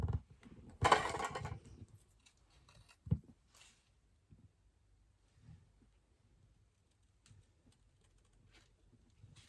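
A single brisk scissor snip through material for a handmade shaker bookmark, close and fairly loud near the start, followed by quieter handling taps and rustles.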